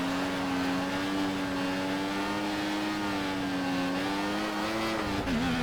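A Formula 1 car in the F1 2014 racing game drifts on the China circuit, its engine a loud, close, continuous high whine that holds steady and then wavers and dips near the end, with no talking.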